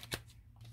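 Tarot cards riffle in a single short burst, a quick papery flutter close by, with a few loose cards slipping out, then quiet rustle.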